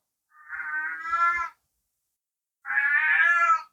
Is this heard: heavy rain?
no